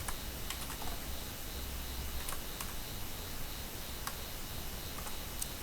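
Code being typed on a computer keyboard, a quick irregular patter of soft key clicks with occasional sharper taps, close and fairly quiet, no voices.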